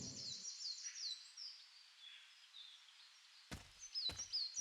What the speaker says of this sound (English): Oh, that bird just chirped at me.